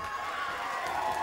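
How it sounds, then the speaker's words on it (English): Wrestling crowd cheering in an arena, a dense continuous wash of voices and noise, steady and fairly loud throughout with no single voice standing out. "Positive reaction from the crowd as he pulls himself back into the ring"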